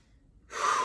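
A single deep inhale during an exercise stretch, starting halfway through as a loud, airy rush of breath close to the ear after a near-silent moment.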